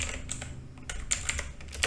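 Quick, irregular keystrokes on a computer keyboard while a JSON settings file is being edited, close and fairly quiet, with sharper clicks near the end.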